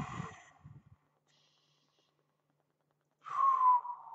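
A man draws a deep breath: a short breathy gasp, a long silence, then a loud, drawn-out exhale that turns into a voiced sigh.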